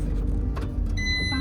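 A car is driven into parking with a steady low engine hum close by, and a brief high electronic chime or tone comes in near the end.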